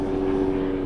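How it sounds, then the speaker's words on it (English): An airplane drones steadily overhead, a constant low engine hum with a strong tonal band, filling the brief moment without talk. "Excuse the plane overhead."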